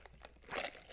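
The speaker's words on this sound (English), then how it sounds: "this ASMR or just annoying me crunching?" Someone crunches food while eating, a single soft, close crunch with a brief rustly burst in a quiet setting.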